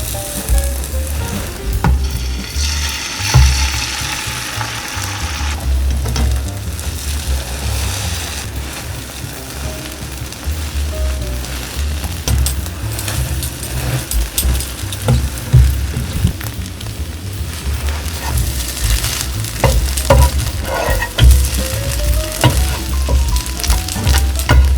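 Egg mixture with two slices of cheese sizzles steadily in a pan while an omelette is rolled, a continuous loud frying hiss with occasional soft scraping, and no voices.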